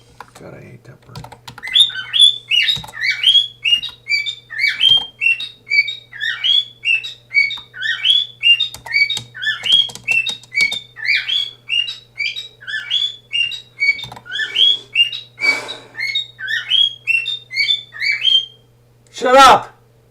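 A bird chirps persistently nearby, long runs of rapid bright tweets over a low electrical hum, mixed with clattering computer keyboard typing and a short squawk near the end.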